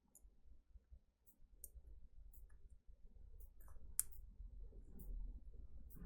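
An iPhone X screen connector clicked onto an extension board, a few faint, sharp plastic clicks scattered over a quiet, low room hum with no talk.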